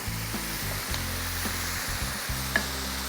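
Syrup poured onto hot şöbiyet pastry fresh from the oven sizzles steadily, a soft crackling hiss over the whole moment with faint low tones beneath.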